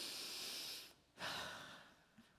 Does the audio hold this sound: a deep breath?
yes